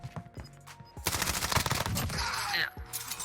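Call of Duty Warzone weapons open up in a dense, sustained burst of rapid automatic fire after a short quieter lead-in, loud and close.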